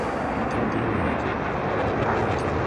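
A fighter jet engine during an airshow high-alpha maneuver, a broad constant roar that stays loud and steady throughout and sounds fairly distant, with no speech.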